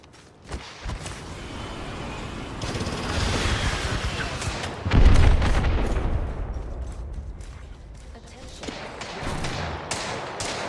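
Heavy gunfire with deep booms and scattered rapid shots rings out in a video game, building to a loud blast midway and then thinning out, with a voice talking at times.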